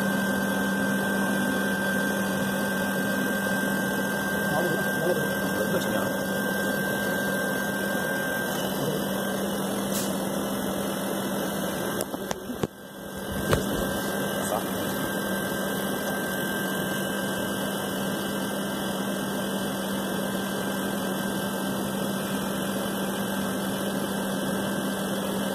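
Window air conditioner running low on gas while being recharged, a loud, steady mechanical hum with a constant drone that dips briefly midway.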